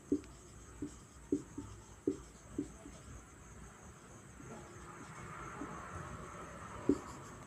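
Chalk or a marker taps and scratches on a board in a Hindi grammar lesson, a string of short, distinct strokes over steady room hiss and a faint high whine.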